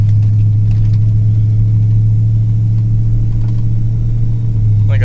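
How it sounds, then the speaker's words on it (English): A 1992 Ford F250 pickup with an E4OD automatic transmission that shifts too quickly from third to fourth, its engine droning in a steady, loud low rumble throughout, with no distinct shift event standing out. "I'm trying to fix an issue where it shifts too fast from third to fourth."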